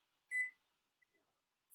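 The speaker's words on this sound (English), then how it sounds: "I'm putting the timer on for 30 minutes." A kitchen timer is set to 30 minutes while matzo ball soup cooks, giving one short, clear electronic beep followed by a couple of faint button ticks in a quiet room.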